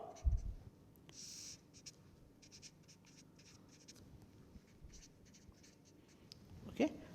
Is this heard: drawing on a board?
yes